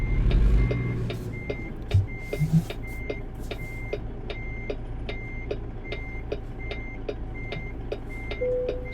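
In American Truck Simulator, a truck backing up to hook a trailer sounds a steady, evenly spaced reversing beep over a low idling engine hum, with a few brief thumps early on.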